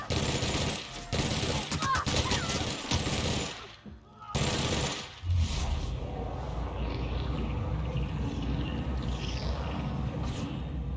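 Gunfire in The Outer Worlds: dense, loud rapid-fire bursts for several seconds, a short pause, another burst, then a quieter rumbling tail, with no talking.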